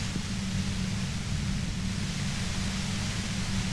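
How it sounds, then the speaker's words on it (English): Dense, violent white noise roars steadily near a compressor in the Disco Elysium video game, an unbroken loud hiss with a low rumbling undertone throughout. "The violent white noise becomes even more overwhelming closer to the compressor."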